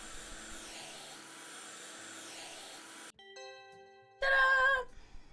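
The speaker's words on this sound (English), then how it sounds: "Why does it have a vacuum sound?" In a house-flipping video game, a steady vacuum cleaner effect drones for about three seconds, then chimes ring and a brief, louder whoosh follows.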